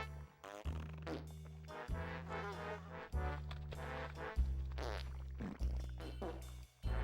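Comedic fart noises woven through the Conker's Bad Fur Day video game soundtrack, a string of loud, buzzy blasts of varying length over a steady low musical bass line, with short gaps between them.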